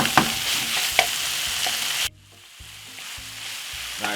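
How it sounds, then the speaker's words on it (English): Tomato and butter sauce hits a hot pan with a loud steady sizzle and clinking stirs, then drops to a quieter, softer fry with scattered utensil scrapes; no talking. "So we're gonna put in some sauce."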